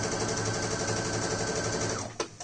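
A sewing machine stitches a fabric face mask with a steady, fast mechanical whir and rhythmic needle chatter, running close and continuously before slowing and stopping with a couple of clunks near the end.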